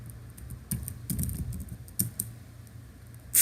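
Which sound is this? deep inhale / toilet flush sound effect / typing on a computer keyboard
typing on a computer keyboard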